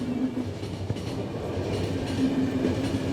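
A train runs steadily in The Final Station, with a continuous low rolling drone and faint rhythmic clatter of wheels on track, loud and even throughout, with no voices.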